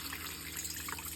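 Water pours steadily into a cooking pot for jelly making, a continuous broadband splash and trickle that runs unbroken, close and moderately loud, with no voices over it.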